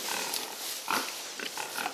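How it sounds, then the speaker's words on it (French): Pigs on a French farm grunting and squealing in a pen, a busy overlapping cluster of snorts and oinks at close range with no talk. "Donc, tous ces cochons"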